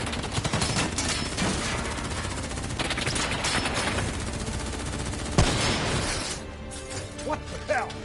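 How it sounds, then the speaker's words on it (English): Dense battle gunfire from Call of Duty 3: continuous overlapping machine-gun bursts and rifle shots close by, with a sharp crash near the end, while voices shout over the firing. "What the hell? Who's shooting?"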